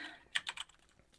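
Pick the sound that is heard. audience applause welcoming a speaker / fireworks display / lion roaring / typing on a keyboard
typing on a keyboard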